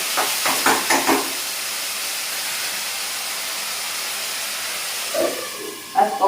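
Oil heating in a pan with panch phoron spices, a steady close sizzle and hiss throughout, broken by a few soft clinks and taps at the start and end.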